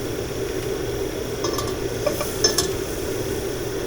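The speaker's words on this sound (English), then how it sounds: "Add turmeric, give that a nice mix, and let the hing and the turmeric also cook in the hot oil" Hing and turmeric cook in hot oil with a steady soft sizzle, while a spoon stirring the pan adds a few light clinks and scrapes over the hiss.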